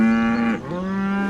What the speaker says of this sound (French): Tu parles la vache, toi.